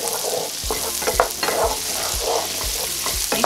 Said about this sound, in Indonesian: setelah menteganya itu panas, kita masukkan bawang bombay, kemudian bawang putih yang sudah digeprek